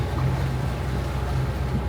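Sailboat under engine at sea pushing into a 25-knot headwind, a steady low engine drone and hull rumble with a broad rush of wind and water layered over it, constant and close.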